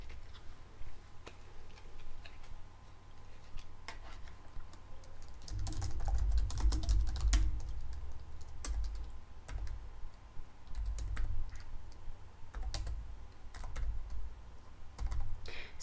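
Someone types on a computer keyboard at a hotel front desk in an ASMR role play, with a steady run of soft, close clicks and taps. Some keystrokes come in quicker, firmer bursts in the middle.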